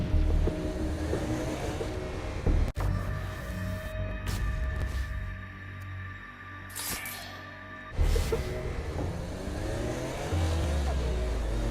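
A car driven around the underworld in Saints Row: Gat Out of Hell, its engine rumbling and revving steadily, with a sharp knock and a few quieter stretches before the roar picks back up.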